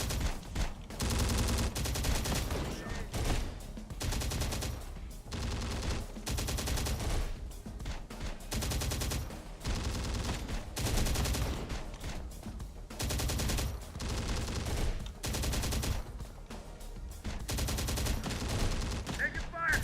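Gunfire in the video game Terminator: Dark Fate Defiance, dense bursts of automatic fire and single shots overlapping almost nonstop, loud and close, with a voice speaking briefly underneath.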